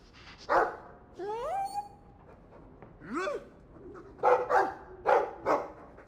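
A dog in a video game barks a few times, with rising yips and whine-like barks in short bursts over a quiet background.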